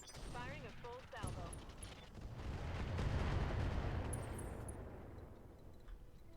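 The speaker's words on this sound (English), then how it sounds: "Firing a full salvo." A mech in the Battletech game fires a full weapons salvo, a swelling rumbling barrage of blasts that peaks then fades, following a short stretch of speech.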